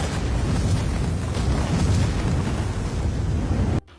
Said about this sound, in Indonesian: Bom itu ternyata aktif dan akhirnya mobilnya meledak